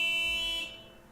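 An alarm rings in The Cat Lady video game, a steady, harsh electronic buzzing tone with a low hum beneath that cuts off partway through, leaving a faint droning tail.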